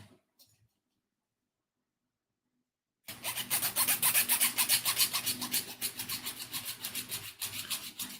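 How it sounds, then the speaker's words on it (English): Rasping strokes of filing or sanding on a part for an OcCre 1:24 San Francisco Cable Car scale model begin after about three seconds of silence, then continue as a close, steady, rhythmic scrape. "Needs to be sanded down or filed down just a little bit."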